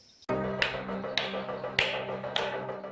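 A ringing mountain rock is struck by hand, giving four sharp, resonant knocks spaced roughly half a second apart, each leaving a bright, sustained metallic ring that overlaps the next.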